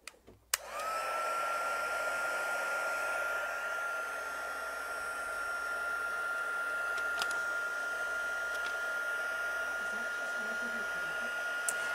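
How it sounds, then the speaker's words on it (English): A handheld heat tool blows continuously on a paper craft, a loud, steady whooshing hiss with a high whine that starts abruptly and runs unbroken, with a few faint clicks in the background. "it's gonna need a little help from the heat tool"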